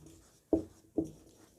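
Two short strokes of chalk or marker on a board as a teacher writes the word kilogram during a physics lesson on units and measurement, close and distinct, about half a second apart.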